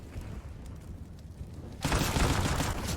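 Heavy burst of rapid gunfire erupts partway through a Counter-Strike-style esports match between Bad News Eagles and Sinners, loud sustained shots following quieter ambient game noise and faint background commentary.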